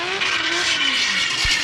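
A BMW E36 M3 drift car at an Irish Drift Series Pro2 qualifying run, its engine droning loudly and steadily with tyre noise, sliding pitch sweeps rising and falling as it drifts.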